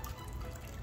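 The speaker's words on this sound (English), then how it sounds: "we've got the fountain up" Water trickles and drips softly in a backyard garden fountain, a faint, steady splashing under a low rumble.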